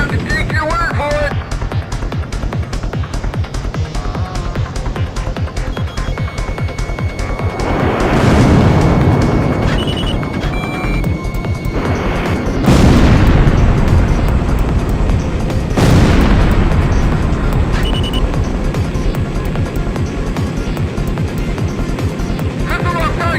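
Missiles strike an iceberg in Ace Combat X, sending out three heavy booming explosions that swell and fade over a constant jet-engine roar, with voices talking over the action.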